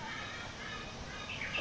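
A bird at Bali Zoo chirps near the end, a few brief high tweets over dense, steady outdoor crowd and ambient noise, fairly faint and partly masked.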